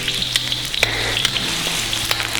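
Garlic fries in hot oil in a pan for a spicy seafood boil sauce, a steady, close crackling sizzle with scattered sharp pops and faint stirring scrapes, no voices.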